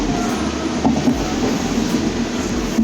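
A passenger train at platform 4 of an Indian railway station, a loud continuous rumble of wheels and carriages with faint rhythmic clacks and a few squeals.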